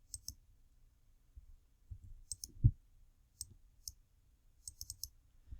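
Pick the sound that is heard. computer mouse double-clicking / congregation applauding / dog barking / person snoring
computer mouse double-clicking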